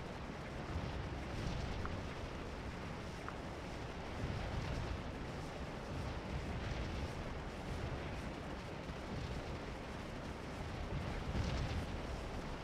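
Distant Confederate artillery rumbling in the Civil War strategy game Scourge of War: Antietam, a steady low roar of cannon fire and battlefield ambience running throughout with no distinct individual shots standing out.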